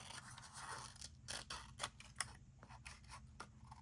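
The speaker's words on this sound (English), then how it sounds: "I'm cutting this one off" Scissors snipping through a Halloween craft piece, a quick series of close crisp cuts and scraping blade sounds, quiet and irregular, with no talking.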